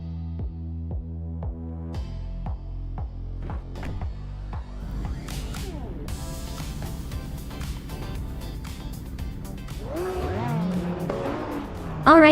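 Rallycross race cars, among them a classic 1987 Porsche 959, in a racing video game at Los Arcos: engines rev through rising and falling gear shifts, building into a sustained roar of several cars with tire squeal near the end, and a voice talks over it.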